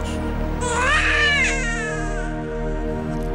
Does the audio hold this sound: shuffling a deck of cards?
no